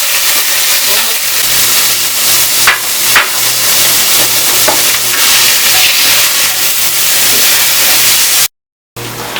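Vegetables fry in a little extra virgin olive oil in a pot, giving a loud, continuous close-up sizzle with occasional pops, cut off by a brief silence near the end.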